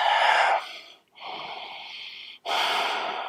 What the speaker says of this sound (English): One more deep, full breath.